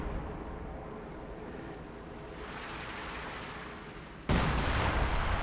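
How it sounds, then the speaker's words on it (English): Artillery shells fall on a field gun in the real-time strategy game Company of Heroes, a low, rumbling barrage that builds steadily before a sudden louder, harsher burst near the end. "Bombarding the field gun here in the middle"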